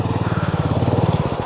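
A motorcycle engine runs steadily with a low, pulsing throb while the bike rides slowly over black ice on a mountain road, loud and close throughout.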